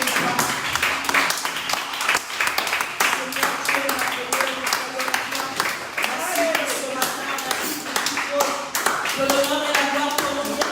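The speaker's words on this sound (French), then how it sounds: "Est-ce que tu peux acclamer le Seigneur en puissance?" Congregation clapping in rhythm during a church worship service while acclaiming the Lord, steady dense handclaps running throughout under singing and voices.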